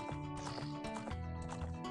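A horse gallops in The Legend of Zelda: Ocarina of Time, steady rhythmic clip-clop hoofbeats running continuously and close over game music.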